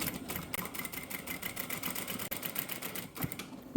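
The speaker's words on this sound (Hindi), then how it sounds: "फिर दामन पर किनारे पर सिलाई लगा लेनी है" A sewing machine stitching along a shirt hem, running in a fast steady rhythmic whir of needle strokes close by, with a brief pause and restart near the end.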